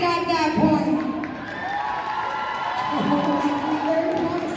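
A crowd at a club stunt cheerleading performance cheers and shouts in reply to a question, in two swells of whooping voices with a quieter gap between, fairly loud, with other voices mixed in.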